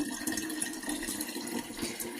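Tap water runs steadily into a container for a refrigerator, a continuous close hiss and splash with no talking.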